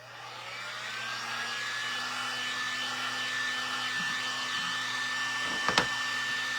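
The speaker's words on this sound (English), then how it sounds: "I'm gonna take it and dry it just for another moment" A hair dryer blows steadily on a freshly worked recycled craft piece, a close, constant whirring roar with a faint high whine. A brief sharp click comes near the end, and no one speaks.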